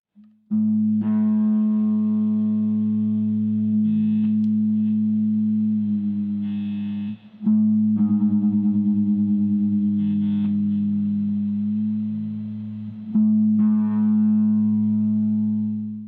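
Guitar strings plucked and left ringing as paired notes for tuning, the low E string fretted at the 5th fret compared against the next open string, the pitches sustained, several plucks spaced across a long stretch.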